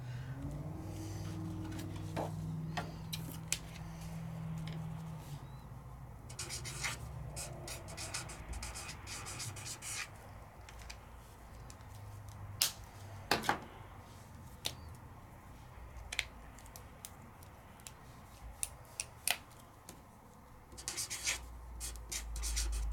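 A double-tipped marker with a bullet tip scratches and rubs across paper in short irregular strokes, faint and close, with scattered taps and a low hum early on, and no talk.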